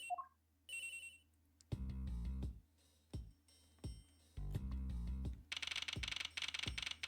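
A cell phone rings inside a locker in the Ace Attorney Investigations video game, sounding as several bursts of electronic ringing separated by short gaps, with chimes at the start, clear and close.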